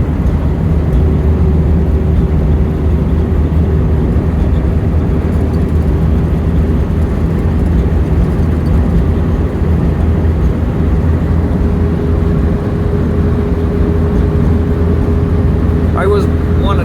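A car driving along the road toward Joshua Tree National Park, with a steady engine drone and road roar from inside the cabin holding constant throughout, and a voice speaking over it.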